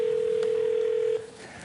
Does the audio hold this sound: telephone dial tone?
yes